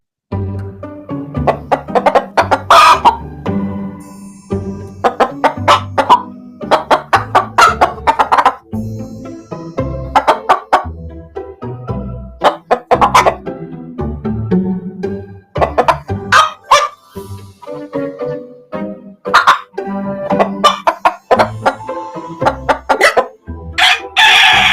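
Chickens cluck and a rooster crows loudly and repeatedly nearby, in uneven bursts with short pauses between, while a dog barks now and then among them.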